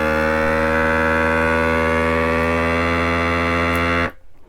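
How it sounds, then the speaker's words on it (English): A vacuum sealer machine drones loudly and steadily with a rich, buzzing harmonic tone while vacuuming a bag of rice, then cuts off abruptly. "since we're going to vacuum and seal the bag, we're going to hit the vacuum and seal button"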